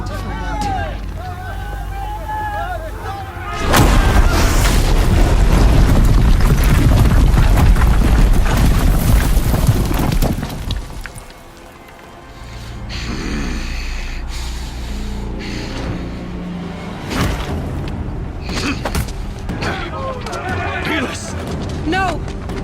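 Big guns firing in a battle in Horizon Zero Dawn, a dense roaring barrage of booms that swells loud for several seconds under shouting voices, then drops back to softer scattered blasts and talk.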